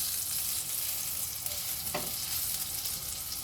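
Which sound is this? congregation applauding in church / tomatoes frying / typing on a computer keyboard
tomatoes frying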